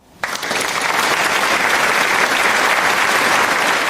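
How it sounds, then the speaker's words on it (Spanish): Audience in a hall breaking into applause at the end of a podcast talk on AI and urban planning, clapping starting abruptly and staying loud and dense. "Un aplauso para ella aquí en el salón"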